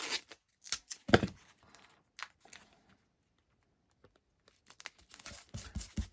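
Masking tape is torn off a roll in short crisp rips and crackles, close and fairly quiet, with pauses between bursts during a model aircraft build.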